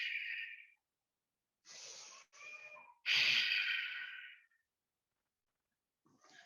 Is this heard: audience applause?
no